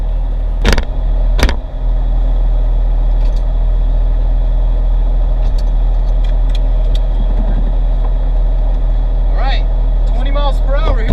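Porsche 911 Turbo from 2002, fitted with iPhones as brake pads, driving down a road: a continuous low engine and road rumble with a couple of sharp clicks early on and faint squeaks near the end.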